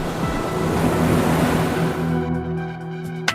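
Rough North Sea waters surge and wash in a broad, loud roar that churns steadily before easing near the end into a quieter background with a low tone.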